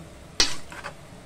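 Pancit noodles being stirred and mixed in a pot, with one sharp utensil scrape followed by a softer second stroke, close and brief.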